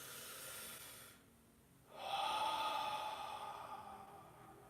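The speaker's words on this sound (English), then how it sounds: "Audible exhales." Audible exhales during a guided breathing meditation: a soft breathy hiss, a short pause, then a long, strong sighing exhale that slowly tapers off, close and alone.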